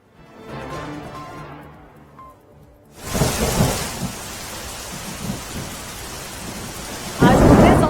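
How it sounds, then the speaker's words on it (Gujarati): Heavy rain and rolling thunder during a downpour in Mithapur, Dwarka district. A quieter stretch opens the clip, then a loud, dense roar of rain and thunder takes over, swelling into a louder burst near the end. "ભારે વરસાદ વરસ્યો છે દ્વારકાના મીઠાપુરમાં"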